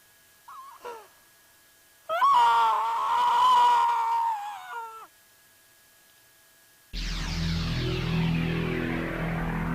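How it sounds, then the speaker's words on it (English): A screeching sound effect from the game Steins;Gate Elite on Switch: a brief wavering squeal, then a loud sustained shrill screech for about three seconds, and later a harsh noisy roar that fills the remaining seconds. "A screeching fills my ears."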